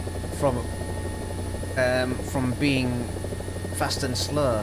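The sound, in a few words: helicopter flying in the video game War Thunder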